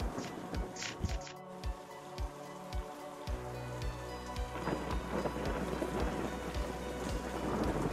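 Thunderstorm from the Terrifying Storm card in the video game Warsaken: steady rain pattering on a surface with rumbling thunder and a run of irregular thumps, fairly loud and continuous with no talk.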